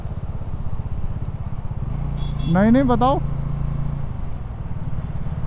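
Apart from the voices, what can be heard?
motorbike being ridden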